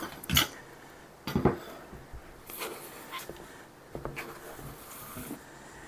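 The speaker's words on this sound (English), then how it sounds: "now I'm just going to put that right into the pot" Lemon mixture for homemade cough syrup poured into a pot, with several sharp clinks and clatters of a utensil against the pot scattered across a quiet kitchen background, no talking.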